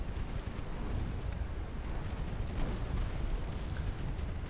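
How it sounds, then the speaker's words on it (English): Warships exploding inside a smoke screen during a naval battle game, heard as a continuous dense roar of rumbling blasts and crackling bursts with no clear gaps. "They're just exploding in their smoke screen."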